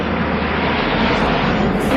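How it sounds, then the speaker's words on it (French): A large airplane passes low near a Paris airport, a loud, steady, broadband engine roar that fills the whole moment, close and powerful. "J'entends un avion."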